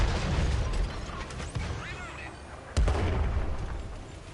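Artillery fire in the World of Tanks video game, with booms and mechanical clatter over a steady low rumble and one sharp loud blast near the end. Light voice murmurs can be heard.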